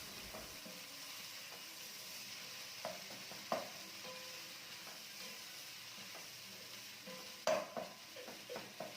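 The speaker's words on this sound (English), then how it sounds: "I'm going to be breaking my tuna just like that, because I want them into smaller pieces" Tuna being broken into smaller pieces with a utensil in a frying pan for tuna and vegetable rice, a steady low sizzle under scattered scraping and tapping clicks that grow more frequent near the end.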